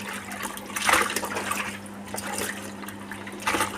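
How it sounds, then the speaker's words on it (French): A washing machine rinsing a hand-wash test load with cold water, with a steady splashing and trickling of water and a low constant hum underneath, continuous and fairly close. "La machine elle est en train de rincer."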